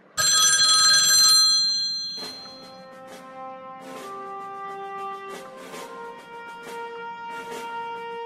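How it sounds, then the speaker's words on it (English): Ringback tone of an outgoing telephone call repeating in steady pulses, preceded by a loud bright electronic chime burst; clear and close with no talk over it, in a cartoon scene of a boy stuck in a toilet. "Let me call Charlie"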